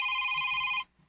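A phone rings with a loud, steady electronic trill that holds for most of a second, then stops abruptly into near silence.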